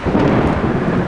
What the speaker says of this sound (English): But that thunderstorm was crazy.